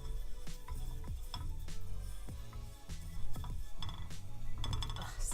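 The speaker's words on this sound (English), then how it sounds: "kind of toast up these spices for a good minute" Spices toast in a pan over high heat while a utensil stirs them. There is a soft sizzle and repeated scraping, clinking strokes against the pan at an irregular, steady pace, close by, with no talking.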